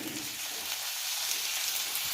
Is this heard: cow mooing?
no